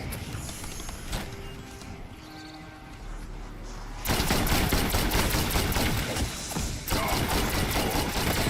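Shotgun blasts in Call of Duty Black Ops 6 Zombies, a loud dense barrage of booming gunfire with mechanical clatter, rising sharply midway and continuing in heavy bursts amid game noise.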